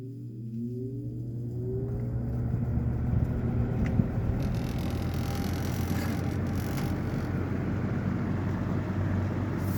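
A Lasko 3733 box fan with a Marco motor starts up on low speed, close by, its motor whine rising in pitch over a steady low hum and airy rush, with no talking.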